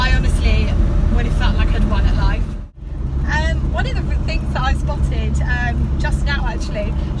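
A 1969 Triumph Herald 13/60 classic car being driven, with a steady engine and road drone running throughout under continuous talking and a brief dip in the middle.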